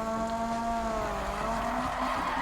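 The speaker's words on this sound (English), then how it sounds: "Oh yeah, this drifts so much better than the Silva." A Toyota drifts in Need for Speed 2015 with a sustained, wavering tire squeal over a steady engine drone, close and loud throughout.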